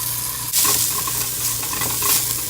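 Butter sizzling and spitting in a hot pan on a stove as an eggless omelette is started: a steady, loud frying hiss with crackles throughout and no voices.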